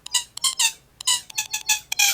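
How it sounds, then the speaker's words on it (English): A bed squeak sample in Ableton Live plays as a series of sharp, bright creaks in uneven rhythmic bursts, about nine squeaks close together, clear and dry, with no talking. "I wonder if I have the real door squeak on here, or the bed squeak, I mean."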